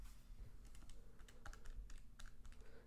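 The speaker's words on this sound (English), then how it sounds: "So I would just type into my calculator 159 divided by 500." Fingers tapping out numbers on calculator keys, a quick irregular run of light plastic clicks over a steady low hum, with no talking.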